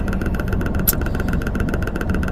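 A car engine while driving, a steady mid-pitched hum with low road rumble and a faint ticking pulse, close and constant without speech.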